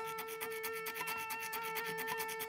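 A faint, rhythmic scratchy rasp of a guitar string scraping on a fret repeats quickly over a thin sustained guitar tone.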